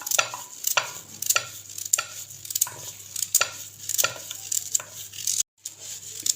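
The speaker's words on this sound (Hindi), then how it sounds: "ऐसे मैंने सारी गाजरों को काट लिया है।" Carrots being chopped into thick cubes with a knife on a board, a series of sharp, close knocks in an uneven rhythm, roughly eight strikes with short pauses between them.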